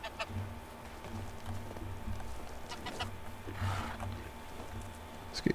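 A goose honks and clucks in a farmyard in the medieval game Medieval Dynasty, a few soft calls scattered over steady ambient background, fairly faint and with no one talking.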